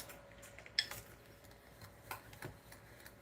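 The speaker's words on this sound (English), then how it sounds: "So we're just going to give these a little mix-a-roo" A spoon stirring pumpkin pie filling in a bowl, a few faint scattered clinks and scrapes against the side, quiet and intermittent with no talking.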